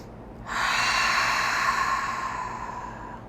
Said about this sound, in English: let's take a cleansing breath